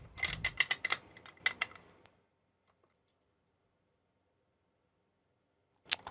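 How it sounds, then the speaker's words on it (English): A wrench tightening two nuts on the end of a screw, heard as a close run of quick metallic ratcheting clicks and creaks that stops after about two seconds, leaving near silence before a brief final click. "we'll use a wrench to tighten the screw up with"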